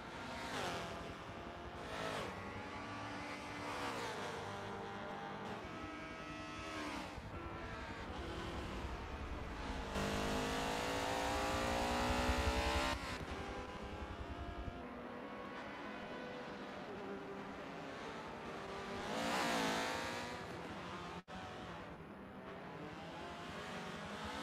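Prototype race cars roar around a circuit in a sim racing game, engines droning steadily with rising revs and passing surges, one louder flyby in the middle, continuous and close throughout.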